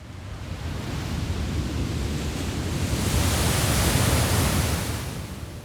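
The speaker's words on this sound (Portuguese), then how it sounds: "O único som é o constante barulho do casco cortando o mar escuro." A ship's hull cuts through the dark sea at night, a steady, loud broadband wash of rushing water that swells slightly toward the middle and eases off near the end, with no voices.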